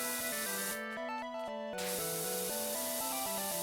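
A pressure washer sprays continuously in the PowerWash Simulator video game, a steady hiss under layered game music tones, briefly swelling to a broad rushing burst midway before settling back.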